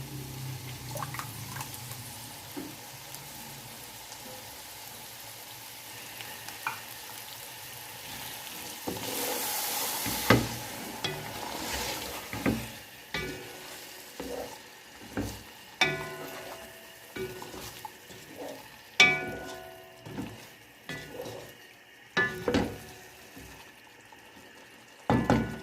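Yogurt tipped into a pan of gravy for chicken yakhni pulao, a sizzle that rises sharply as it hits, followed by repeated spoon strokes and scrapes stirring it, close and without talk.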